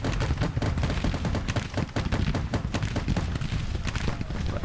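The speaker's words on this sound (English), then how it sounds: "Right, Gatling guns" Gatling gun fire in the Civil War strategy game Grand Tactician, a dense, continuous rattle of rapid shots with heavy low rumble, loud and unbroken.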